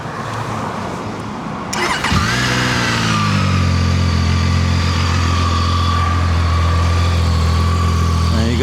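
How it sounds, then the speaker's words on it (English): A Zontes ZT 703F adventure motorcycle engine cranks and catches after a brief quiet moment, then settles into a loud, steady, close idle with a continuous rumbling hum. "let's turn the engine on"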